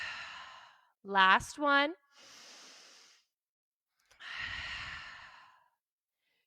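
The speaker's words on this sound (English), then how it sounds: "Breathe in and out." Slow breaths in and out during a seated yoga twist in a flow class: three long, airy close-up exhales and inhales, with a brief spoken phrase between the first two.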